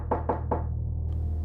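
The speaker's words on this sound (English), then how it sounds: "It was late afternoon when the knock came." Three sharp, deliberate knocks on a door, evenly spaced and close, followed by a low steady hum, a sound effect in a horror story.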